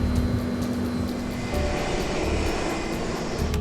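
An Airbus A320 airliner takes off from runway 4 at New York's LaGuardia Airport, bound for Charlotte. Its jet engines give a steady, loud, unbroken roar with a low hum underneath.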